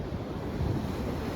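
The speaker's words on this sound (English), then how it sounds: "we got a high tide wave that looks pretty big" High-tide ocean waves surge at Avon by the Sea, a steady broadband wash of surf with wind buffeting the microphone, swelling slightly midway, no voices.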